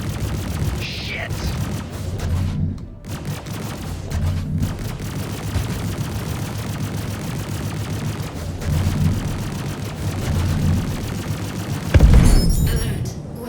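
Spaceship weapons fire continuously in Star Citizen, a dense, steady roar of rapid gunfire and booms that lasts throughout and ends in a louder burst, with an intermittent synthetic voice alert mixed in.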